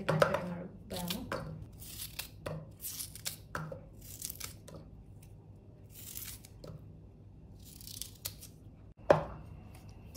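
Bamboo shoots chopped into large pieces for pickle, sharp irregular cutting and crunching strokes, close and crisp, separated by short quiet gaps.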